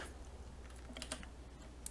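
Typing on a computer keyboard, a few quick soft key taps in a short cluster, close and fairly quiet against a faint background hum.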